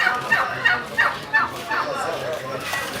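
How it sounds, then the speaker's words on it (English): A goose honks repeatedly at a child, a string of loud nasal calls in uneven bursts that rise and fall, close by, with faint background noise underneath. "Child versus goose."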